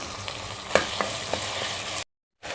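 Small pieces of chicken breast sizzle in hot oil with onion and garlic paste in a pot, a steady crackling hiss broken by a few sharp pops and stirring clatters before a brief silence.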